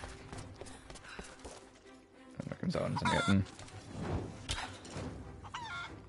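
A chicken clucks in the snowy village of the video game Rise of the Tomb Raider. Fowl calls and clucks rise in bursts amid hoof-like clopping and game ambience, and a voice talks over them.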